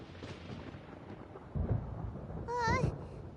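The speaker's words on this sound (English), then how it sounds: "Paimon hears thunder!" Thunder rumbles in Genshin Impact during a storm, a low rolling boom that swells midway and grows louder toward the end, with game effects layered over it.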